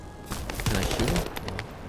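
Rapid automatic gunfire in the video game The First Descendant, a dense, loud stream of shots in quick succession with a booming low end throughout.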